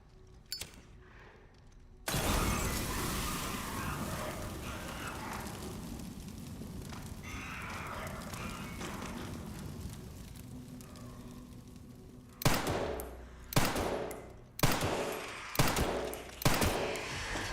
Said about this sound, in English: It takes 4 bullets and a Molotov